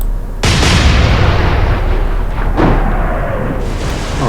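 Warship turrets fire a booming salvo in the Atlantic Fleet naval battle game, a loud close blast followed by a second heavy report and a long rumbling tail, with no talking.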